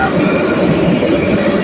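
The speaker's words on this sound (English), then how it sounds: "here comes the train again" A city train rolls in steadily, its rumbling wheels and carriages forming a continuous loud roar with a faint metallic edge and no distinct breaks.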